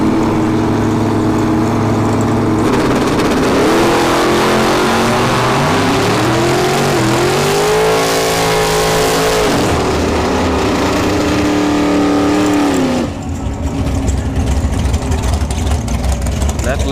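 Bracket drag racing cars at the Sportsman Finals at Bradenton Motorsports Park roar loudly as engines rev and climb through gears, pitch sweeping upward under continuous crowd and track noise, ending with a sudden drop as the run passes.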